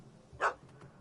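A single short puppy bark at a cat in The Witcher 3, one brief yap standing out against a faint background.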